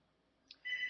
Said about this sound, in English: great, the phone's ringing